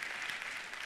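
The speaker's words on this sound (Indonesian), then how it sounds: "Tepuk tangannya yang paling meriah buat Tuhan kita" A church congregation applauds during a sermon, a dense steady patter of many hands clapping together, fairly distant and even throughout.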